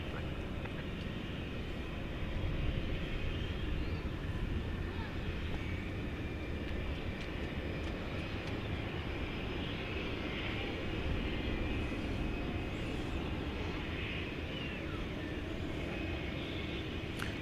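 A Martinair cargo jet, a Super Cargo Master, arriving at DFW Airport at night, its engines a steady, distant broadband roar that holds throughout with slight swells.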